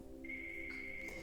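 A phone rings indoors in a quiet room: a single steady electronic tone sustained for about a second, clear above low background hum.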